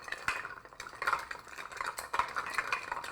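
A bar spoon stirs a Corpse Reviver #1 cocktail over high-quality ice in a glass. Ice clinks and rattles in a continuous, fairly quiet swirl, close up and without speech.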